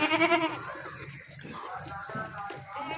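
Young goats bleat on a Pakistani goat farm: a loud, close, wavering cry at the start, then quieter farmyard murmur with softer animal calls.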